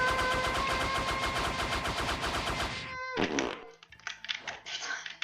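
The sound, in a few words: fart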